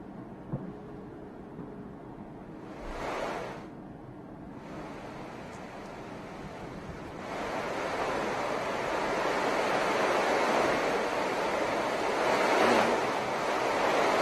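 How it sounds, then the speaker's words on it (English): Heavy rain pours steadily over an outdoor stadium in Kisii, a dense broadband hiss that swells louder midway through and stays close and continuous with no talking. "it is pouring here like never before"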